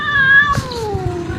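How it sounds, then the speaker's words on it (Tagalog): Two cats courting give a loud, drawn-out caterwaul, a wavering yowl that slides slowly downward, with a brief rustle partway through and no talking. "At may nangyari nga pong ligawan yung dalawang pusa."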